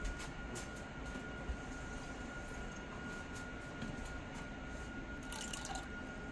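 Liquid pours out in a brief, faint trickle, with light dripping over a low steady background hum.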